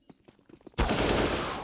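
AK rifle in Counter-Strike: Global Offensive, heard in a pro match: quick in-game footsteps lead into a sudden loud burst of automatic gunfire that rings on and decays slowly.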